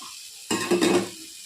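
Beaten egg poured into keema frying in a pan, a sudden loud sizzle that swells briefly with a stirring scrape and then fades within about a second.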